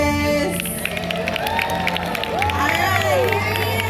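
A large crowd cheers, shouts and whoops continuously for a sniffer dog named Elvis at an animal show, a dense, loud roar of mixed voices with children's shrieks rising above it.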